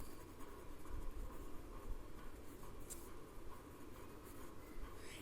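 A pen scratches steadily across paper while math notes on complementary angles are written, a continuous soft close scribbling over a low background rumble, with no talking.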